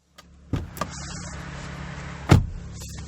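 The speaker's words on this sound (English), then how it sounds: "that door had a very satisfying door slam, nice and solid" A door on a 2019 Lexus RX 350L shuts with a solid thud near the middle, preceded by a couple of lighter clicks and knocks in a quiet cabin-side setting.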